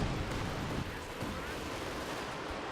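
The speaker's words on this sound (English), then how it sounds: "We do see a Katusha barrage into the center of the map." A Katyusha rocket artillery barrage in Company of Heroes 2 pounds the middle of the map, a dense rumbling roar of overlapping blasts that carries on steadily throughout at moderate loudness.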